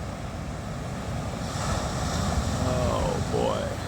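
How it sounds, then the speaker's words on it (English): Ocean surf washing along the California coast, a steady broadband roar with wind buffeting the microphone, while faint voice-like tones drift through the latter half. "Back at the ocean on California coast."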